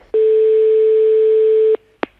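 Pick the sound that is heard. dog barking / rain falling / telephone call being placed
telephone call being placed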